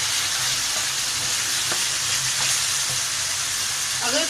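Ridge gourd and meat fry in ghee in a pan with a continuous, dense sizzle and crackle, heard up close, with a few faint clinks of a utensil.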